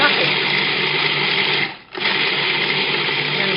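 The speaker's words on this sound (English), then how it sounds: "And grind it up pretty fine." A food processor grinds graham crackers, butter and sugar into fine crumbs, a loud, steady, close motor whir that drops out briefly in the middle before starting up again, with a voice talking partly underneath.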